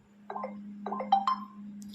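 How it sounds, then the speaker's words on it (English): A short cheerful notification chime called "happy" plays on a vivo Y3s phone, a few bright rising tonal blips over a low steady hum. "we will click on this happy ringtone"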